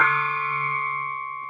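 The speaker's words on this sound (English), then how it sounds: "There's another little, like, tiny little gong thing I found just in a shop, I think in Singapore" A tiny shop-bought gong from Singapore rings out with one bright, sustained metallic tone that lingers close and loud, slowly fading over a second and a half.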